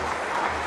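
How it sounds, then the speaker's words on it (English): A cricket crowd at a Glamorgan v Middlesex Vitality Blast match applauds a fine innings, a brief, dense wash of clapping filling the ground. "stands to their feet and applauds a fine innings"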